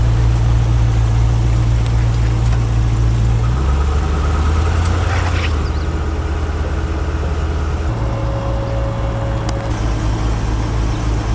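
A vehicle engine idles and rumbles steadily while pulling a trailer into line in Moab, a loud, close, low drone whose pitch steps down and then back up as the load moves.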